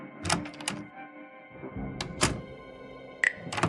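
Lounge door opening in an audio game, heard as a few sharp wooden thunks and latch clicks spaced across a few seconds, close and fairly loud against quiet background tones, with no talking.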